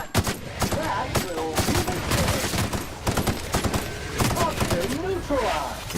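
Loud gunfire aimed at the player in the video game The Outer Worlds: rapid automatic bursts and single cracks come in quick succession throughout, with a voice faintly beneath the shooting.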